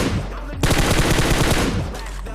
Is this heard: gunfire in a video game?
yes